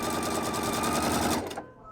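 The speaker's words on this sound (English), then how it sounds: "If I disengage the dual feed, it now is going to stitch exactly like any sewing machine that is out there." A Pfaff Creative Icon sewing machine stitching sheer fabric with its dual feed disengaged, giving a steady, close, fast mechanical whir with a rapid stitch rhythm that runs for most of the moment and then stops abruptly.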